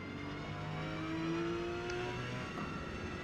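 A Porsche 911 GT3 in Forza Motorsport at Mugello powers out of a tight hairpin in second gear, its engine note climbing steadily in a loud, continuous drone with no talk.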